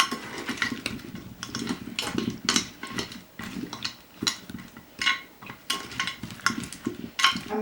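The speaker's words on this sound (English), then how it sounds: "I am going to just mix it with my hands because it makes it easier." Halved potatoes being mixed by hand with garlic and herbs in a bowl, heard as close, rhythmic wet squelching and tumbling bursts that repeat steadily, with light clinks of the dish.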